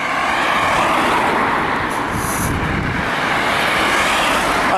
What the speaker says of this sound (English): there's still quite a lot of traffic